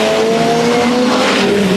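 A turbo diesel Seat Leon touring car races in a 2009 WTCC round at Porto, Portugal: a loud, close engine roar that holds steady across the whole moment, with a hint of tire squeal.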